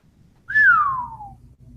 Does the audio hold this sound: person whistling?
yes